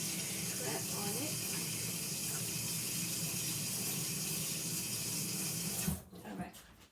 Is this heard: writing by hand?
no